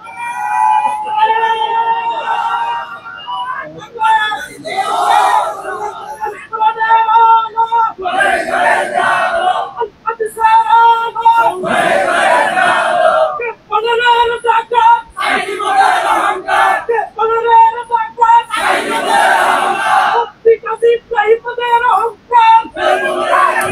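A large crowd at a political gathering in Mirsarai, Chattogram, Bangladesh, loudly chants slogans in rhythmic call-and-response bursts, with repeated surges of massed voices and brief dips between phrases.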